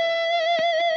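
A distorted electric guitar in a blues rock style holds one sustained, singing note rich in overtones for about a second, with faint pick or fret noise around it and no talking.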